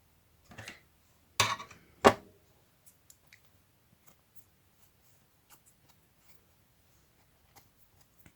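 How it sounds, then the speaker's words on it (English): Scissors snip through paper in three crisp, close cuts near the start, followed by near silence broken only by a few faint ticks and small handling clicks. "I have to cut it like that"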